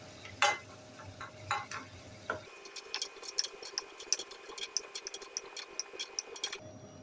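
Peanuts fry in oil for a jowar puffed-rice chivda with faint, scattered crackles and soft pops, plus a few louder scraping stir sounds early on, all fairly quiet and close.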